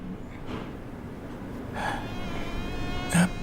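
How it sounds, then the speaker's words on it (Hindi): A fly buzzes faintly in a quiet room in an animated cartoon, a thin, wavering drone rising near the end over a low background hum. "यहाँ एक मक्खी है।"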